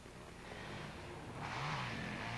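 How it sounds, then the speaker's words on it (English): A Gehringer Harley-Davidson motorcycle attacks a steep dirt hill at the Devils Staircase hillclimb in Oregonia, Ohio, its engine droning steadily at a distance, then rising in pitch and swelling louder as the throttle opens partway through. "Riding another one of the powerful Gehringer Harley-Davidsons. Attacking the hill"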